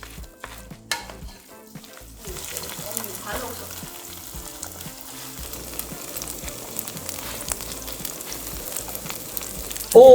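Seafood green onion pancake (haemul pajeon) fries in a pan with a continuous crackling sizzle, fairly loud and close. A sharper bump of sound comes near the end.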